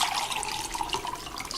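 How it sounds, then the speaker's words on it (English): Young coconut water poured from the fruit into a glass, a steady close liquid trickle and splash running throughout without pause, with no talking. "Let's just pour this into this glass"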